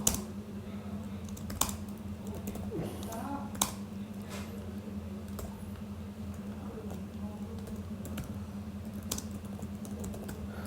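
Computer keyboard keys clack in scattered, irregular taps and short bursts over a steady low hum, close by, with brief faint voice in the background.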